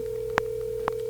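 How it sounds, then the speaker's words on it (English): A phone call ringing out unanswered, with two short ring bursts about half a second apart over a steady line tone, fairly quiet and with no talk. "Listen to this phone call."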